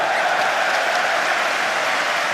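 Dense, steady applause from a large crowd at a rugby match, Ireland versus Georgia at the 2007 Rugby World Cup, filling the whole stretch at constant loudness with no pauses and no voices standing out.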